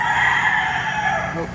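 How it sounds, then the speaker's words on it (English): A chicken clucks and crows on board a passenger ferry traveling between Masbate and Bogo, Cebu, heard over a constant loud drone of engine and ambient noise, with brief calls near the end. "Hope somebody's got a chicken on board."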